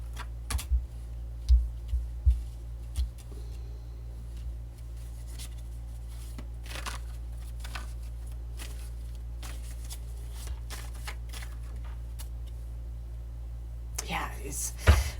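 Tarot cards being shuffled and pulled at a reading table, soft papery slides and small taps scattered through the passage, a few louder flicks near the start and a brief rustling burst at the end, with quiet low hum underneath.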